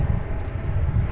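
A UPS MD-11 jet comes in to land on the east side of DFW Airport, heard as a continuous low engine rumble heavy in the bass, steady and fairly loud at a distance, with no voices over it.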